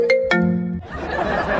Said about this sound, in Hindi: मेरे फोन पे कॉल आ रही है।